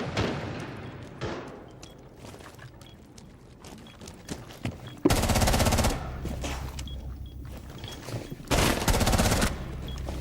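Shotgun fire in the Rainbow Six video game comes as two loud, dense bursts of gunfire, each lasting about a second, separated by quieter stretches of scattered clattering.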